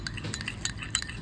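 Spoon stirring a homemade glycerin skin-whitening face cream in a small bowl, giving a close, continuous scraping swirl with faint clinks of metal against the container, alone with no voices.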